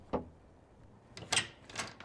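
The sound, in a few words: knock on a door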